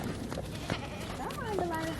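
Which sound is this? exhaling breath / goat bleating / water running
goat bleating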